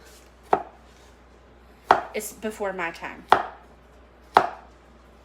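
Knife chopping food on a cutting board: four loud, crisp, well-spaced chops, with a short stretch of speech between the second and third strikes.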